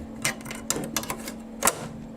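Plastic flat embroidery hoop slid onto an embroidery machine, a few sharp clicks and clunks spaced irregularly over a steady low machine hum, close and fairly quiet.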